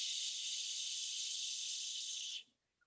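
A voice imitates the steady hiss of steam rising from boiling rice, one long, loud, even hiss lasting over two seconds before cutting off abruptly into silence.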